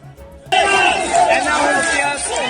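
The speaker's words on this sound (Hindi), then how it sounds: "दिल्ली के रामलीला मैदान में जुटी ये भीड़ सरकारी कर्मचारियों की है।" A large crowd of protesting government employees at Ramlila Maidan in Delhi, rallying for the old pension scheme, erupts into a loud, sustained roar of massed voices that starts abruptly and holds steady.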